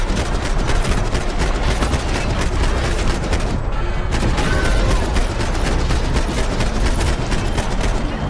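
Rapid, continuous gunfire while shooting enemies from a hook lift in a Max Payne video game, with loud, dense bursts of shots and a short lull partway through.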